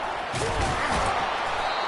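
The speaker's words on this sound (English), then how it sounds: "Slammed to the ground, but not before he gets the first down" A running back slammed to the ground in a tackle in College Football 25, heard as a single dull crunching impact near the middle amid steady stadium crowd noise, with a commentator's voice around it.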